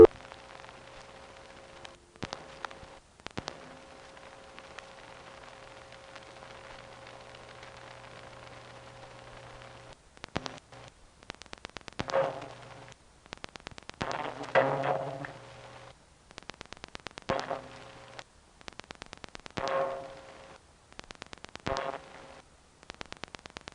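Telephone call routing signals from Lynbrook 9 through Queens Tandem to the Whitestone ESS: a steady low hum and faint hiss, broken by clicks and short bursts of ringing, gong-like tones from about ten seconds on.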